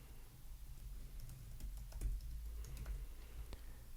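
Quiet clicking keystrokes on a computer keyboard tap out a short string in an irregular run, close and soft, with no voices.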